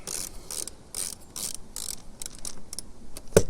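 A ratchet turns a screw to fasten a Camco Max Air-type vent cover onto an RV camper roof, giving crisp clicking bursts in irregular strokes, close and fairly loud, with a sharper knock near the end.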